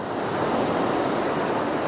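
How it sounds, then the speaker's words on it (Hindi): Fast-flowing river water at the Rudraprayag confluence, a loud, continuous rushing roar with no breaks and no voices. "पानी का बहाव काफ़ी तेज़ है"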